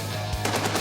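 A machine gun rated at 500 rounds a minute opens up after a low steady hum, firing a short rhythmic burst of loud, close shots.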